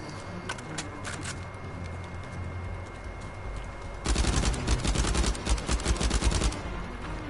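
An AK rifle in Uncharted 4 opens up in a loud, rapid automatic burst partway through, after a stretch of quieter in-game sounds. The burst continues as dense, crackling gunfire to the end, with no talking.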